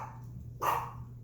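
A pet dog, agitated while being minded, lets out a single short, sharp bark partway through, loud against a steady low background hum and otherwise quiet room.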